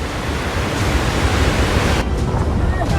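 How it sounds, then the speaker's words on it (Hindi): Floodwater released from a dam rushes across a highway in a loud, continuous roaring wash of broadband noise with no pauses or voices. "देव बांध से छोड़ा गया पानी हाईवे पर आ गया"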